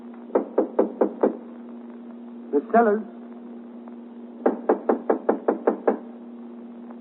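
Someone pounds repeatedly on a locked dressing room door, two bursts of five and seven firm, evenly spaced knocks, with a voice calling out between them over a low steady hum.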